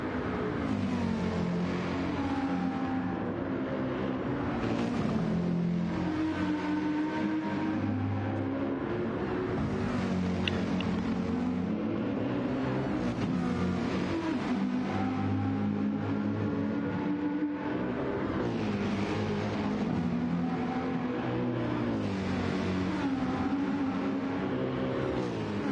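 Race cars lap the Nürburgring in Gran Turismo 7, engines revving and shifting in repeated rising and falling sweeps, steady and fairly loud with no talk.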